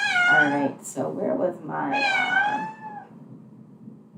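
A cat in heat meows loudly nearby, drawn-out wailing calls that rise and fall, mixed with and following a person talking.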